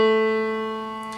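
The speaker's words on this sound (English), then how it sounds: "For the cello, the A string actually corresponds to the A below that," Piano sounding a sustained A below concert A, the reference pitch for a cello's A string, a single rich harmonic note decaying slowly on its own.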